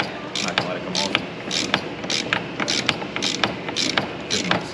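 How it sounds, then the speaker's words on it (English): Socket ratchet loosening a bolt during a heads and cam install on a high-mileage C7 Corvette, a steady run of rapid clicking bursts in a regular rhythm, close and fairly loud over a noisy garage background. "Ratchet."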